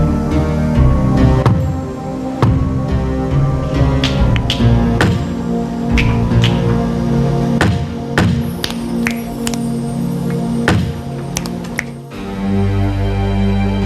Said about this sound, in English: If your answer is yes, knock twice. If no, knock once.